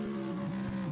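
Race car engines in a Le Mans 24 Hours virtual sim race, including the 56 Team Project One car and the Alpine Elf car, drone loudly with a sustained wavering pitch as the cars pass, with no voices.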